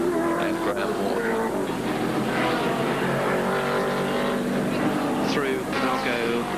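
Race cars, including V8 Camaros and a Commodore, roar through a corner at Amaroo Park in 1982, engine notes rising and overlapping loudly while a commentator talks over them.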